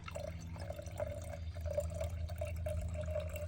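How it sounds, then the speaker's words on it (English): Water trickles and drips in a thin, quiet stream as it is poured into acid to dilute it, a faint uneven splashing with no voices. "I'm gonna dilute it a little bit with water"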